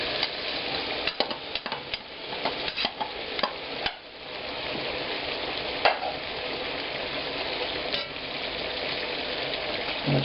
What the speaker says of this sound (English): I want to deep fry the potatoes